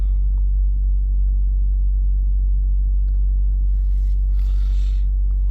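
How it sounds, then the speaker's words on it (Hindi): Petrol car engine idling just after a cold start, a steady low rumble holding evenly throughout with a faint hiss rising briefly near the end. "अब मारते हैं इसमें कोल्ड स्टार्ट"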